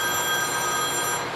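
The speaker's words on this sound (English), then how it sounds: "I have a phone call coming in." A telephone rings with an incoming call as one steady, high electronic tone held throughout, moderately loud, with no voices over it.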